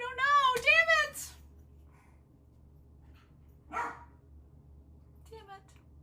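Several dogs bark in a short burst of sharp, high yaps near the start, then a single bark follows after a pause and a quieter yip near the end, over a low steady hum.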